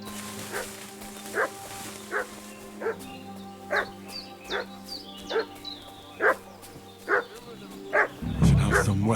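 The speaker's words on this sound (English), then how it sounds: "What's that dog making such a fuss about?" A dog in Kingdom Come Deliverance 2 barks repeatedly at an even pace, a dozen or so sharp barks at moderate distance over a low steady hum, with a brief burst of noise at the end.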